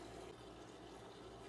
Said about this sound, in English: I have poured a small layer of vegetable oil into this bowl